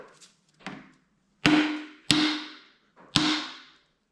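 A hammer strikes an Allen key set in the bolt of a RockShox Lyrik or Pike fork lower leg: four or five sharp metallic taps at uneven intervals, close up, each ringing briefly before fading, with firmer blows toward the end.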